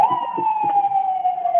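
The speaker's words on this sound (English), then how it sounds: "That's an ambulance." Ambulance siren sounding loud and close as a steady, slowly falling wail with a faint higher harmonic, over light background murmur.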